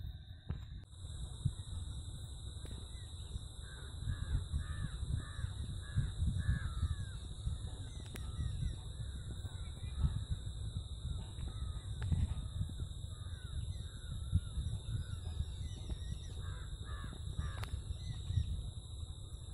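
Birds feeding in a field, giving repeated crow-like caws at a moderate distance, faint and scattered over a constant background hum.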